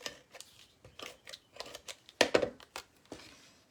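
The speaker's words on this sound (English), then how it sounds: "So cut a piece of Orchid Opulence to go behind this one." Scissors cut a piece of Orchid Opulence cardstock in a run of crisp, separate snips and crunchy slices, close up and spaced irregularly, with one sharper, louder cut near the middle.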